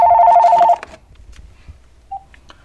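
A telephone rings with a short electronic warbling trill that cuts off abruptly, followed by near silence and a faint brief beep.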